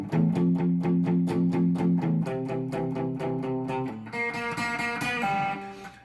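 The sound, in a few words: guitar single note on G string third fret with slight bend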